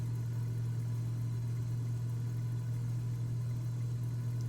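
Cessna 206 engine in Microsoft Flight Simulator running at a steady low drone, loud and constant with an even hum and no voices.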